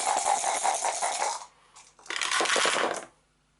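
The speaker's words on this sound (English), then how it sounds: "So she is going to roll 5 dice" Five dice rolled for a board game, a dense clattering rattle in two bursts with a short pause between, close and loud, no talk over it.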